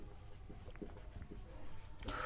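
Chalk or marker scratching across a board as a chemistry teacher writes out electrophilic attack notes, soft scraping strokes in short bursts over a steady room hiss.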